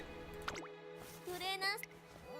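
Water in the Umamusume: Pretty Derby video game, a dripping, sloshing liquid sound mixed with game music and sound effects, with a voice briefly speaking over it.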